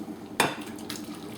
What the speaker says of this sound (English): transfer it over to our baking dish.